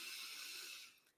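One long, soft, airy deep inhalation through the nose, close and quiet, steady then fading out at the end, with no talking.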